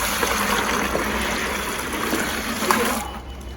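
Water poured into a bucket for mixing floor levelling compound, a steady splashing stream that runs for about three seconds and then stops, with faint talk beneath.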